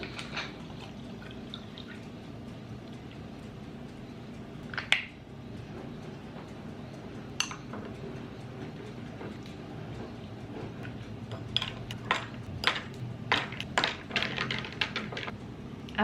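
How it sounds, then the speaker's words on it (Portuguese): Ice cubes dropped into a glass of chilled water on a warm day, a cluster of sharp clinks and rattles near the end, with a few isolated clicks earlier over a quiet room hum. "vou colocar um pouquinho de gelo também"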